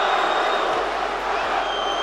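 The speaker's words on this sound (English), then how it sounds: "And Szpilka getting some love from the crowd." A large arena crowd at a heavyweight boxing match in support of Polish boxer Artur Szpilka, a dense steady roar of cheering voices that fills the whole stretch without pause.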